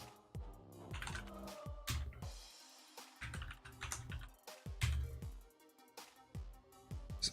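Rapid clicking of computer keyboard keys in irregular bursts with brief pauses, close and moderately loud, while a Marvel Snap launch-day stream plays.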